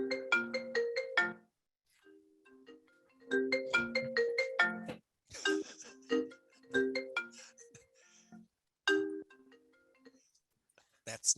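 A cell phone ringtone goes off during a lecture, its short melodic phrase repeating in bursts with brief gaps, moderately loud and close.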